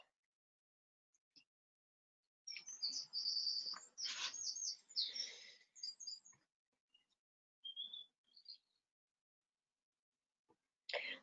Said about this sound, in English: Yeah, the birds are still singing, Simon, absolutely.